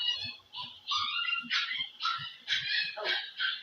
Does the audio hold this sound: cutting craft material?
no